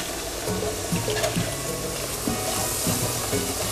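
Green plantain slices for tostones on their first fry in hot oil, giving a steady, close bubbling sizzle with soft crackles and faint clinks throughout, no talking.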